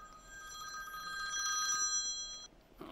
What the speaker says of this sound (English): I forgot to shut my phone off